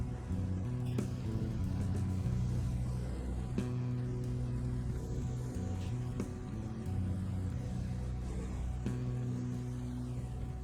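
A heavy truck in SnowRunner grinds up a quarry hill in hard mode, its engine droning low and steady, with the pitch shifting under load and a few clunks and knocks over the rumble.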